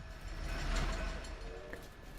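A passing train in the video game The Last Hero of Nostalgaia, a steady low rumble that swells toward the middle and fades, with a faint clatter over the top and no talking.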